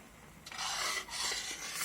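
Makhani gravy is stirred with cashew nut paste in a pan, a close, continuous scraping and rubbing with short pauses, loud and alone.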